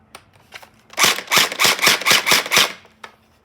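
A gel blaster fires a quick string of about eight sharp, snappy shots in a rapid, even rhythm, close and loud, with a couple of lighter clicks before and after.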